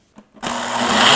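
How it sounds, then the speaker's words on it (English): A blender starts up after a brief pause and runs loud and steady, whirring through an orange creamsicle smoothie made with cottage cheese and vanilla. "put it on the base, and then blend until smooth and creamy"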